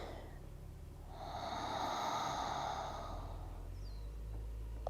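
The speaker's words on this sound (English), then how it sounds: "Oceanic breathing, your ujjayi breathing." A long audible ujjayi breath during a slow yoga flow, a soft oceanic rush rising and fading over a few seconds, close and quiet with no talking.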